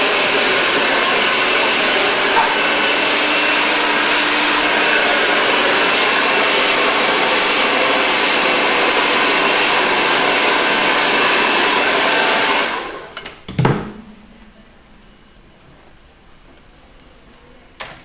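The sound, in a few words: hair dryer during a blow dry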